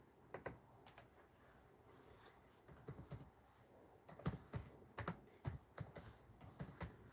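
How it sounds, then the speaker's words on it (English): Keys tapped on a computer keyboard in short irregular bursts of clicks, close and fairly quiet, with pauses between runs and no talking. "I'll just type it in"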